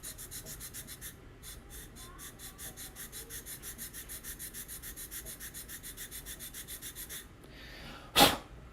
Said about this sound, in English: I'm just going to sand the base of these just to kind of make sure they're the same height